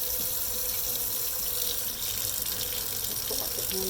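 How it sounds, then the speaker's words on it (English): Cold water runs from a kitchen tap in a continuous, even splashing stream, close and steady, with faint clinks near the end. "Run a little bit of cold water."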